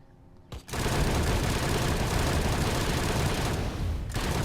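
Rapid, nearly unbroken automatic gunfire from the Triple Burn weapon in the Blitz Brigade shooter game, starting abruptly after a short pause and roaring loud and continuous for several seconds before a brief break and resumption.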